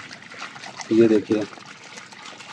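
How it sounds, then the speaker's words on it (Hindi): Water poured into a pot of mutton to make gravy, a short splashing pour of about half a second, then a brief second splash, with a voice speaking over it. "इसमें जा रहा है पानी ग्रेवी के लिए"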